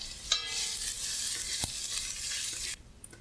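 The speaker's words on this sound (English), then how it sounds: "Now we are going to add the chopped onions and cook them for a minute until soft and pale in" Chopped onions dropped into hot, spiced oil: a sudden sizzle bursts up and stays loud and dense, a sharp clank midway, then it cuts off abruptly near the end.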